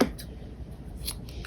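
Scissors snip yarn for a crochet Olaf hat, a few quick crisp cutting sounds in close succession, near and clear with no talk.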